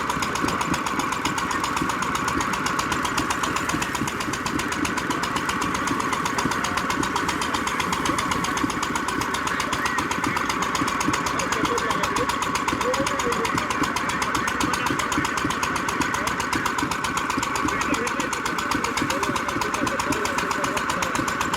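A stationary engine drives a 1930 Forano threshing mill at a demonstration, running in a steady, continuous loud chug with a rhythmic knocking pulse that holds unchanged from start to finish.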